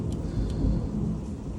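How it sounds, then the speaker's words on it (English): A thunderstorm rumbles with continuous low, heavy thunder under a steady wash of rain, loud and unbroken, with a few faint sharp ticks on top. "Thunderstorms here, people, today."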